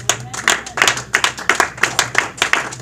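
A church congregation claps in a steady rhythm, about four claps a second, loud and close, with faint background voices but no clear cheering.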